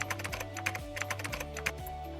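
Quick, close clicks from a computer keyboard as an email ID is typed in, a rapid uneven run of keystrokes over a faint electrical hum.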